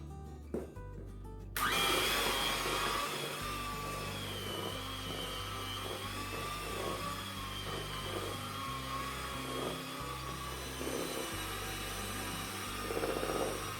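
An electric hand mixer creams white and brown sugar together for a cookie dough, starting abruptly after a brief quiet moment and then whirring steadily and loudly with a dull, rhythmic churning as the beaters work through the sugar.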